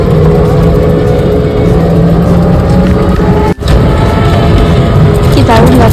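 Trucks and other traffic pass on a highway at dusk, with a loud, continuous roar of engines and tyres and a vehicle rushing close by partway through.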